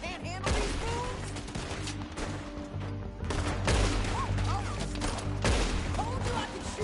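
Video game gunfire crackles in dense repeated bursts of rapid shots, loud and close, with voices briefly speaking in between.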